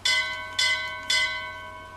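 Bells rung in the video game BioShock Infinite, three bright clanging strikes spaced about half a second apart, each ringing out with a long metallic decay, loud and with no talking.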